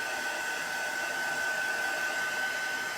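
A heat tool runs steadily throughout, drying a chalk paste craft project on a mat, producing a continuous near, loud airy whoosh with a high whine and no talk.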